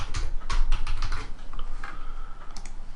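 Rapid keystrokes on a computer keyboard as a short page title is typed, a quick irregular run of close, crisp clicks with brief pauses between bursts.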